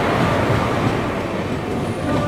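The Bhagat Ki Kothi–Mannargudi Express rolls past on a Chennai line in the rain, a loud, close, continuous rumble of wheels and carriages with faint rail clatter.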